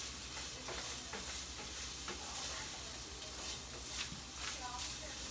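Pancetta sizzles and crackles steadily in a hot pan, a continuous frying hiss with occasional stirring scrapes, moderately quiet and close.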